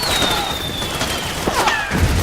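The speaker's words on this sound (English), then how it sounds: "I want to wait for the next explosion to go by" An explosion rumbles through the Metal Gear Solid 4 video game, with crashing impacts and bursts of gunfire layered over continuous battle noise.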